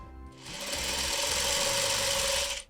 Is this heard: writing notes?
no